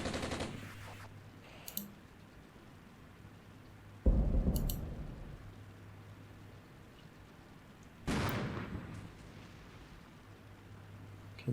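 Artillery fire mission in the war game Armored Brigade: three heavy booming impacts about four seconds apart, each a loud burst that decays slowly into rumble, with small crackling shots in between.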